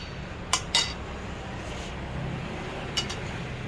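A metal spoon clinks against a bowl while mixing cooked potato tops, a few sharp taps spaced apart over a low background hum.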